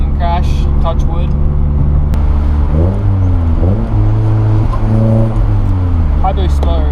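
Car engine revving and accelerating on boost, loud and close with rising and falling engine tones as gears shift, a steady roar throughout and wind noise from open windows.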